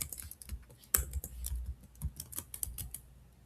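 Someone types the word "Excel" on a computer keyboard, producing a quick, irregular burst of close, crisp key clicks with soft thuds, heard alone.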